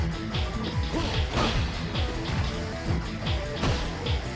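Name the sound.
fighter crashing through a barrier in the video game Fighting Vipers 2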